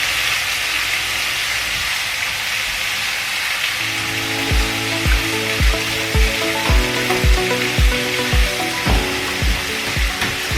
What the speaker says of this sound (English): the beef, you just fry it on both sides for a few seconds or a minute too